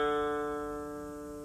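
A single guitar D string plucked once and left to ring, a clean sustained tone with rich overtones, close and fairly quiet, fading gradually.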